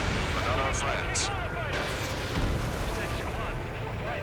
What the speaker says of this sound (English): Howitzer.